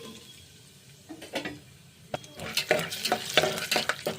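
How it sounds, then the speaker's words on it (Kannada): Peanuts frying in hot oil with mustard seeds for upit, stirred with a spoon in a pan, giving close, irregular scraping and clinking over a soft sizzle that grows busier toward the end. "ಚೆನ್ನಾಗಿ ಹುರ್ಕೊಳ್ಳೋಣ ಕಡಲೆ ಬೀಜನ"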